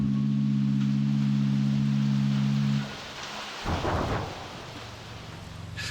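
Mountain thunderstorm with rain in the hills of Mallorca: a steady hiss of rain under a humming tone that cuts out, then a deep rumble of thunder rolls through near the middle before the rain carries on alone.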